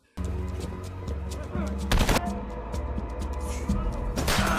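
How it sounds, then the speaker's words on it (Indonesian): Rapid bursts of automatic gunfire as special forces shoot down cartel members in a film scene, dense loud volleys with sharp cracks over a low rumbling background. "Komplotan kartel ini satu persatu mampus ditembak mati oleh pasukan khusus"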